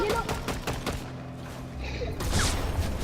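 Weapon fire and explosions in the video game Fortnite: a few heavy booming thumps and bursts, loud and close, mixed with game noise and a speaking voice.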